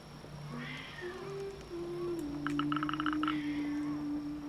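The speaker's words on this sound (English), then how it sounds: "My cat is yelling again." A pet cat in a video game yowls in long drawn-out, rising and falling cries, fairly faint against a quiet room tone, with a brief burst of chirpy clicking sounds in the middle.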